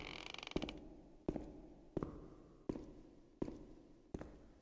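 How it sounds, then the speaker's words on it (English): A door creaks in the video game The Town of Light: a faint, drawn-out groan with a sharp creak-click repeating about every three-quarters of a second, six times over. "Sounded like one of the doors was creaking open."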